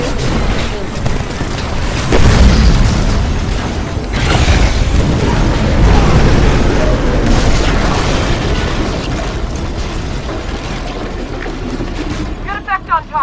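A shot and heavy explosions in a Titanfall game cutscene come as deep, sustained booming and rumbling with bursts and crackle, loud throughout, with voices talking over it.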